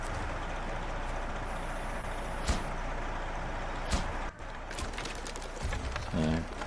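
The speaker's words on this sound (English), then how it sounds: "it's a very strong heavy truck" Heavy P512 truck in SnowRunner rumbling steadily across terrain in Wisconsin, with a couple of sharp clunks midway and a short tonal whine near the end.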